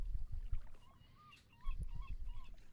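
A bird in the adventure game The Longest Journey gives a few honking, squawking calls over a faint wash of harbor ambience, with a quiet stretch between bursts.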